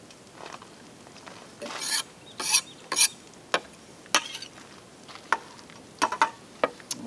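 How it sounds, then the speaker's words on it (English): Knife chopping fresh cilantro into little pieces on a cutting board: irregular sharp taps, some in quick clusters, moderately close with no talking. "Chop it up into little pieces."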